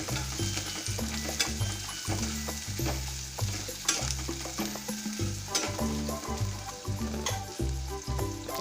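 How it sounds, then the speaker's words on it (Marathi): Finely chopped onion sizzles and fries in a pan for a methi bhaji, a steady crackle with rhythmic scraping stir strokes, close and continuous with no talk. "आणि आता त्यामध्येच मी कांदा टाकून घेते तो बारीक चिरलेला तर हा कांदा आपल्याला चांगल्या तऱ्हेने भाजून घ्यायचा आहे"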